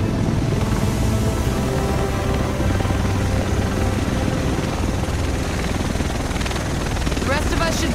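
A helicopter in the Tom Clancy's The Division video game approaches amid city fighting in Manhattan, a steady loud rotor roar and wash filling the scene, with voices talking over it.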